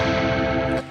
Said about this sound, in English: and the 5th fret with an upstroke.